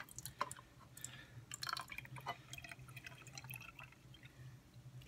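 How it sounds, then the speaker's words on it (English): Liquid from canned corn poured into a Rotel container, quiet drips and trickles with a few small splashes and clinks, close and faint, no talking. "take this corn and dump it, the liquid, into my Rotel container"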